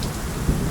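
A thunderstorm with rain rolls over a home garden, a loud, dense wash of rainfall with deep low rumble underneath and a brief swell near the middle, no voices.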